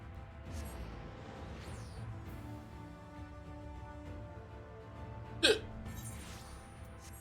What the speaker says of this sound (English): Sorry for the hiccup.